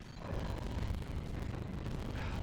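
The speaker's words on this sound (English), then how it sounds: "We just destroyed a fireworks station." Dense, roaring explosion noise from a destroyed fireworks station in the video game Rampage: Total Destruction, set in Hong Kong. The rumble is steady and continuous, with no distinct individual blasts and no talking.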